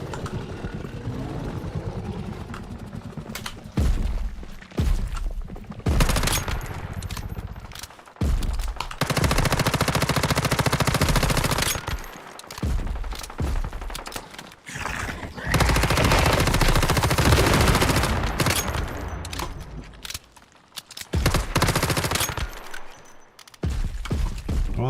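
Automatic gunfire from the game Once Human, loud sustained bursts of rapid shots broken by short pauses, continuing until the magazine runs dry.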